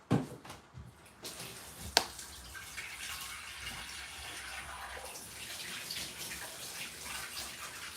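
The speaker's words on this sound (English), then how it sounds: "I'm just going to put some water in it." Water runs steadily from a kitchen tap into a cooking pot, a continuous broadband gush that starts after a couple of brief knocks and holds at an even level, with no talking.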